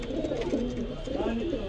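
Pigeons coo in a low, steady murmur from a large Patiala-size black pigeon kept among other birds; the cooing runs continuously and fairly loud, close by, with a busy background of overlapping calls.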